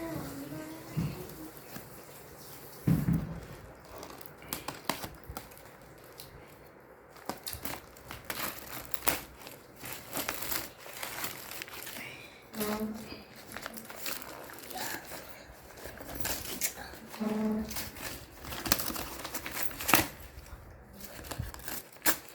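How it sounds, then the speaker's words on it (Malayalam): A courier parcel from the Flipzone online store is unboxed, with plastic packaging crinkling, crumpling and tearing in bursts throughout, plus scattered handling knocks and clicks close by. "ആ കൊറിയർ നമ്മൾ അൺബോക്സ് ചെയ്ത് നോക്കിയേക്കാം എന്തൊക്കെയാണ് ഇതിലുള്ളത്"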